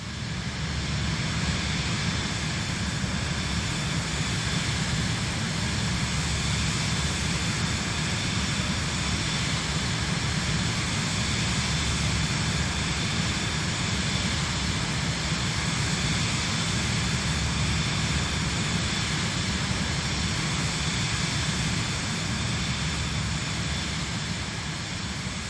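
Steady, loud jet engine drone of an SF50 Vision Jet in cruise, heard from outside the aircraft in a flight simulator, a constant broadband roar with no breaks and no voices.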